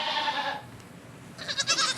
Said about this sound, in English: let's talk goats today